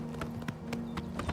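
A horse's hooves clip-clop at a steady riding pace in the video game Oblivion Remastered, close and alone over a faint tonal background.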